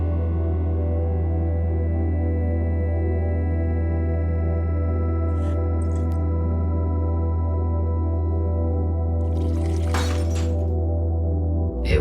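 In the video game The Uncertain, a glass liquid container shatters in one sharp, bright crash near the end, over a steady, humming electronic drone that runs throughout.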